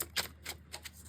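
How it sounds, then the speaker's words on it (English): Tarot cards are shuffled in quick riffles, four soft, close, papery bursts spaced about a quarter second apart under low background hum. "One more shuffle"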